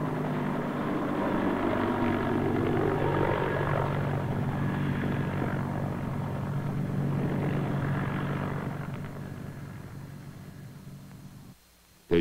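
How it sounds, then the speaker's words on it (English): Steady propeller-engine drone of a C-141 transport aircraft in flight carrying students, loud and continuous for most of the span before fading off near the end. "The students are aboard this C141 for an orientation flight"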